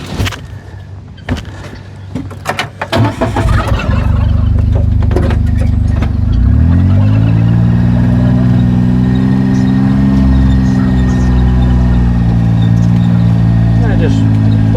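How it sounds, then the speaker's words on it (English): A John Deere Gator utility vehicle's engine starts up after a few scattered knocks and clunks, then settles into a steady, close, droning idle that continues to the end. "I will start moving the gator around"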